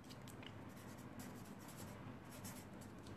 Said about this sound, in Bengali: এটা সংক্ষেপে লিখি